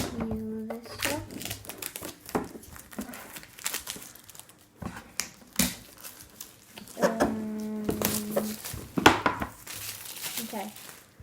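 Cardboard and plastic packaging on a Gravitrax Volcano box crinkles and tears in close, irregular bursts while a person talks throughout.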